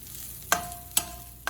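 White and green onion cooking in a pan, a soft steady sizzle broken by three sharp scraping stirs of a utensil against the pan.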